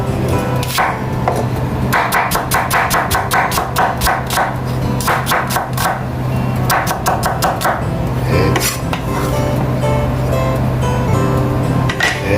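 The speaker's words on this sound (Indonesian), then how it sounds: "Ini bawang bombay ya, iris juga" A knife slicing an onion on a cutting board, with fast rhythmic bursts of sharp chopping taps in quick runs separated by brief pauses, loud and close over a steady background hum.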